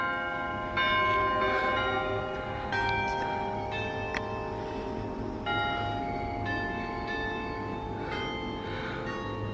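A church bell in the small Spanish town of Callosa chimes one o'clock, its rich ringing strikes rising over a steady outdoor background, each stroke decaying into long sustained overtones, with no voices.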